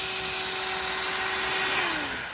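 A Ryobi wet and dry shop vac runs with a loud, steady motor whine and airy rush, and its pitch sags slightly near the end.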